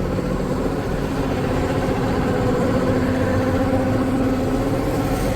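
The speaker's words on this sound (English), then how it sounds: "we're pumping it into their slurry store" A pump engine on a farm drives slurry into a slurry store, a steady close engine drone with constant low rumble and no break or change across the whole stretch.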